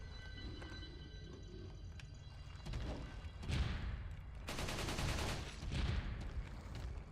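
Gunfire in the Resident Evil 4 video game, faint at first, then louder bursts and impacts over a rumbling background in the second half.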